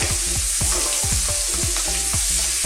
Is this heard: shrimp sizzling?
yes